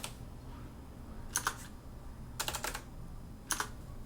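A folder name is typed on a computer keyboard in three short bursts of crisp, close key clicks over a faint background hum.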